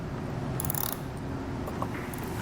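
A 10mm wrench tightening a bolt on a Rhino-Rack Vortex roof rack fitted to a 2021 Jeep, quiet metallic ratcheting clicks in short bursts, close and faint, with no talking.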